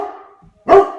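A dog barks one loud, sharp bark close by, protective and agitated, preceded by a softer whine or growl.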